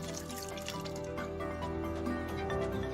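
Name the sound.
watering freshly planted bulbs in a balcony pot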